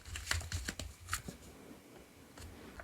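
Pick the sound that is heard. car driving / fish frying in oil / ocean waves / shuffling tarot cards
shuffling tarot cards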